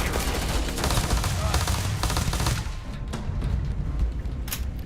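Gunfire rattles in the space game Starfield as rapid bursts of shots and booms, loud and dense for the first half, then thinning to scattered reports.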